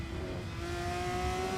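A Formula 3 race car engine at the Red Bull Ring, pushed hard, gives a steady high-pitched whine that climbs slightly in pitch as the car holds a sustained, loud run, with no talk over it.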